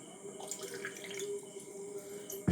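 Water runs steadily through a water flow meter, a constant close rushing and splashing like a tap pouring, with a sharp knock right at the end.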